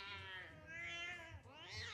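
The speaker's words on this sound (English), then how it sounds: "if this cat don't chill, we're gonna have to put it outside" A cat in the animated film Soul yowls in long, wavering, drawn-out cries, loud and close, with a low rumble underneath.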